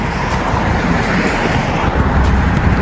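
Steady, loud roadway traffic with cars passing close by, a continuous broadband roar with wind buffeting the microphone; no talk.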